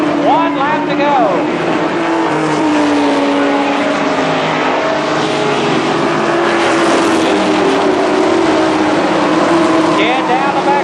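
Race cars roaring around Columbus Motor Speedway during a 1998 SuperStar Shootout, a loud continuous engine drone with rising and falling pitch as cars pass, under a track announcer's commentary.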